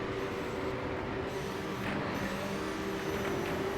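Stunt Car Racer's engine drones continuously with a steady tonal hum under a wash of noise, level and unbroken throughout.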